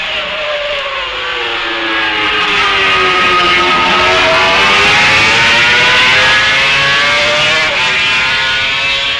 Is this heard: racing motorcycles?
yes